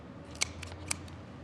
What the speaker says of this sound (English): trim the wing tips off because they generally burn. Just use scissors, it's the easiest thing to do.